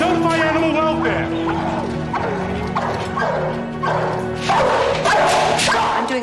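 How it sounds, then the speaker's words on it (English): Several dogs bark, yip and whimper loudly and continuously at close range, with excited, overlapping calls and shouting voices mixed in. "Control those dogs or I'm gonna shoot them right now!"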